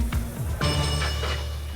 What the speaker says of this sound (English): Hit the bell, please.